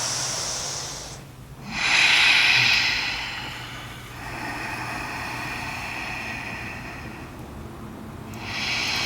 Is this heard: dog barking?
no